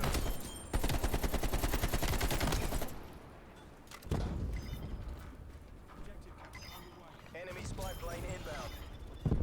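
Gunfire in the PC shooter Call of Duty: Black Ops Cold War, with a dense burst of rapid automatic fire, then a pause and scattered later shots over game ambience and music while someone talks.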